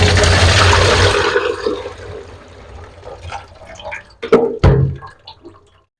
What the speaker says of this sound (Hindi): अब इसको हमने छलनी में छान लेना